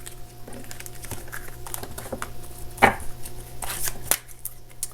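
A tarot deck is shuffled close up, giving quick papery riffles and soft card slaps in short bursts, with a louder flurry near the end over faint background hum.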